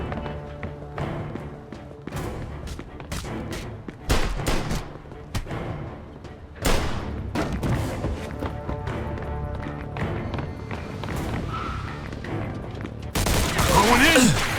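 Heavy bursts of gunfire in the Mafia game, rapid volleys and single loud shots echoing near and far, with thuds and a louder closing barrage, shouting voices faintly under the shooting.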